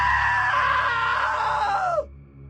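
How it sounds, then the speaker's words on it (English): Sven screams in What Remains of Edith Finch, one long loud sustained shriek that sags in pitch and cuts off abruptly, leaving a faint hum. "Now that was a great scream."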